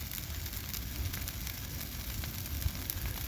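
A brush pile of wet grass and cedar limbs burns with a steady close hiss and soft crackle, sizzling steadily throughout with no voices.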